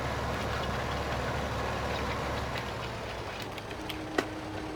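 A tractor engine idles in Farming Simulator 2015: a steady, low mechanical hum that holds constant throughout, with a single faint click near the end.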